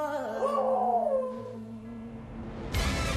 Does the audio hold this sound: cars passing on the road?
no